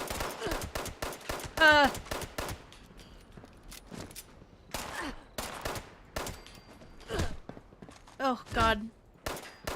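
A 10mm pistol fires in Fallout 76, the sharp cracks sounding in scattered bursts among other game effects while a player talks and groans throughout.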